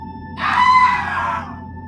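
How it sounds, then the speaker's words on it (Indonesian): A man's single loud, drawn-out scream rises sharply and then slowly fades, used as a horror sound effect over a quiet low background. "Ternyata bapaknya Najah tersebut teriak."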